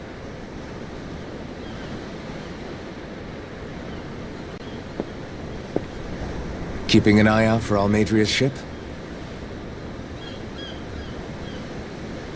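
Ocean waves in the video game Tales of Arise wash in a steady, soft roar beneath the scene, while a character briefly speaks over them partway through.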